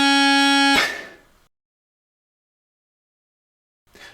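Bagpipe chanter sounding the note C, a single bright reedy tone held for under a second and then cut off abruptly, followed by near silence and a faint brief noise at the end.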